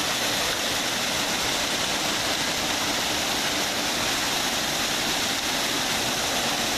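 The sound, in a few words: Ribeirão dos Negros stream falling into the lake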